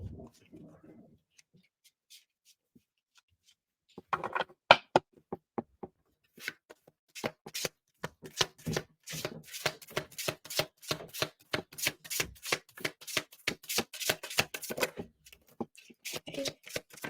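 Loving Words from Jesus tarot deck by Doreen Virtue being shuffled close up: a long run of quick, crisp card riffles and taps speeding into a dense rhythmic patter, with a voice speaking briefly and softly at the start.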